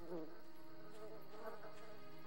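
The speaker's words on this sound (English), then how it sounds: "They're bees. And you can attack their hive for honey" Bees buzz around their hive in the Lord of the Rings: Fellowship of the Ring game on Xbox, a continuous wavering drone heard alone throughout.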